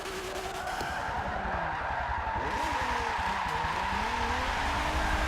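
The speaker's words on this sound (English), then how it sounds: "I'm going to try my best to see if it can actually drift with lots of tuning and" A Nissan Z32 drifts in Forza Motorsport 7, its tires squealing continuously over a loud, steady engine roar with no pauses.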